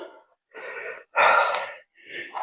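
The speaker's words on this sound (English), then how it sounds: "which is why I start breathing heavy almost right away" Heavy breathing after stretching, a run of loud, close gasping inhales and exhales in uneven bursts separated by short silences.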